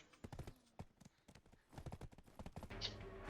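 Horse hooves clip-clop in the video game Black Desert Online, a quick, uneven run of sharp hoof strikes at a faint level, with a brief brighter whinny-like touch near the end.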